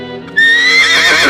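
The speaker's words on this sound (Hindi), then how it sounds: "अचानक उसके घोड़े की आवाज से उसकी नींद खुली" A horse gives a loud, close whinny that starts abruptly after a low rumble and rises into a shrill drawn-out neigh, used as a story sound effect.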